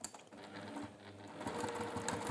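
A sewing machine runs steadily, stitching down the lines on two sets of pockets for an armchair tidy, its even whirring motor close and clear with no voices.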